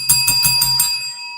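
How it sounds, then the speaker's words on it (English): A cowbell rung several times in quick succession, bright metallic clangs with a steady ringing tone that fades out after the last strike. "Nakia laughing at the cowbell."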